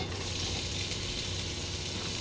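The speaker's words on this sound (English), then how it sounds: "And we're gonna throw in that awesome red onion" Red onion sizzling steadily in olive oil in a hot pan on high heat, a dense, continuous frying hiss close up with no talking.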